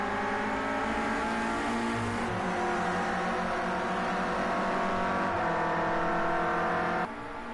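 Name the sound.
Clio Cup race cars driving into a corner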